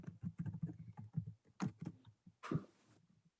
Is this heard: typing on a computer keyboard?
yes